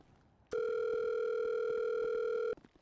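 A telephone dial tone sounds as a call is placed: one steady, loud two-note electronic tone that holds for about two seconds, then cuts off abruptly, with quiet background on either side.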